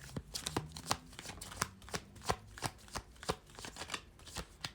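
Tarot cards being shuffled and flipped in quick irregular slaps and riffles, close and soft, about a dozen crisp snaps in a few seconds.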